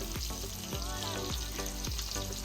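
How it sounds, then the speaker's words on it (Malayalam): Pearlspot fish sizzles loudly in hot coconut oil, with a dense continuous crackle broken by several sharp spatters at roughly half-second intervals. "കരിമീൻ ചൂട് ഓയിലുമായിട്ട് സംഗമിക്കുമ്പോഴുള്ള കളകളനാദം"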